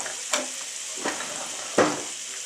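Butter and olive oil sizzling in a hot pan while cooking Cajun chicken fettuccine alfredo, a steady quiet fry with three soft stirring scrapes spaced about a second apart.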